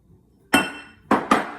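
Eggs are being mixed into banana bread batter in a bowl, heard as three sharp clinks of a utensil striking the bowl, one then a quick pair, with no talking.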